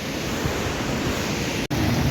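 The flooded Beas river rushes past in a flash flood, a loud, continuous roar of churning water that fills the whole scene, with wind buffeting the microphone, close and without speech.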